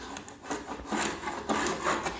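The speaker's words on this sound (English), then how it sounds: "But see there where I'm scraping a little harder?" A hand scraper drags across stained wood flooring during chemical stripping, making rough, close rasping strokes in a loose repeating rhythm with no voice over them.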